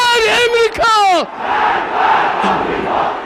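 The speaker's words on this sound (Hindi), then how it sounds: "भीड़ नारे लगाती है" A rally crowd in Iran chants slogans in unison, a loud, close burst of massed voices that drops into a broad, rumbling crowd roar.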